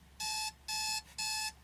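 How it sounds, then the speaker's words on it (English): An old 1980s–90s digital alarm clock beeps in three evenly spaced, harsh electronic bursts, loud and close against a quiet background. "It's the old like 80s, 90s alarm with the big red digital"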